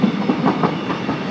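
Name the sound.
train passing by on a track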